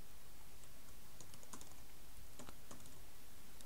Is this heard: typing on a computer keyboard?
yes